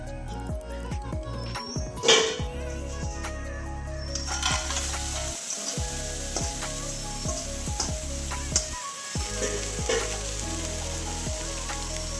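Large prawns sizzle and crackle loudly in a hot pan, a steady frying hiss with occasional stirring clinks and scrapes, no voices.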